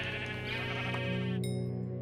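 A Minecraft sheep bleats in a steady, droning, nasal tone that holds for about a second and a half before a brief bright game chime cuts in at the end.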